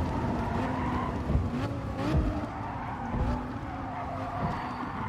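A Lamborghini Huracán, N600 class, driven in Gran Turismo Sport, its engine droning steadily with pitch swings through gear changes and occasional tire skids mixed in.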